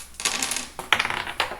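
Dice tumbling and clattering across a tabletop during a Dungeons & Dragons stealth roll, a short burst of sharp clicks followed by a second rattling spill and a final small tap, fairly close and without talk.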